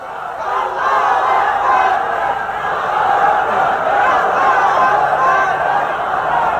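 A large rally crowd roars a religious slogan response in unison, a dense, sustained wall of many voices shouting together, loud and steady for several seconds.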